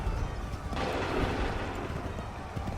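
A musket volley fires on command during the Battle of Lexington and Concord in Assassin's Creed 3, as one sharp, loud crackling blast that rolls off over a rumbling battlefield background.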